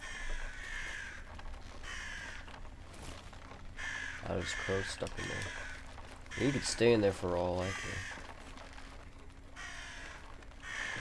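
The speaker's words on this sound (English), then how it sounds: "Oh, there's crows stuck in there." Crows caw in several bursts in the Atomfall video game, set against a low game ambience, while someone talks over most of the cawing.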